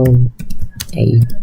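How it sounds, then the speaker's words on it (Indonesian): Quick taps on a computer keyboard while typing a command, a few close clicks mixed with a person talking over them. "Kita langsung aja ketik"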